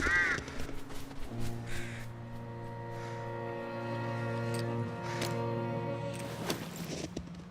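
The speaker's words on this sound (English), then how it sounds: "I'm sure you want to go where the birds are crowing." Crows in the survival video game The Long Dark give a couple of harsh, ragged caws near the start, then fall mostly quiet over a steady low droning hum that runs underneath, with a few faint clicks toward the end.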